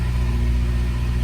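Geo Tracker engine idling steadily just after starting, a close, continuous low rumble with a smooth, even hum and no talk over it.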